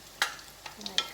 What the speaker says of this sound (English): oil is hot enough, so we're just going to dip the Bhatura in like this